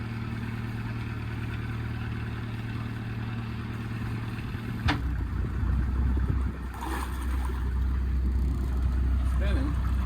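A sailboat's inboard engine runs steadily at close range with its barnacle-fouled propeller spinning, a constant low drone and rumble. Voices are heard over it partway through.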